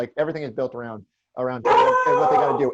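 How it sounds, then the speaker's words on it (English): A pet dog barks and yelps excitedly at home, a loud burst of overlapping barks breaking in right after a man's speech pause, close to the microphone. "And that is my dog, who is getting very worked up about the Tatum"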